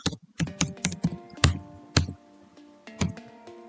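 Keystrokes on a computer keyboard, a handful of separate clicks and taps in an irregular rhythm with brief pauses between them, close and fairly clear over a faint steady hum.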